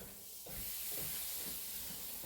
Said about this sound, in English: And they can just cook gently away here.